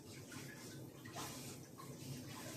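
Water runs steadily from a tap, a continuous rushing wash that stays at an even level throughout the short stretch, with no talking over it.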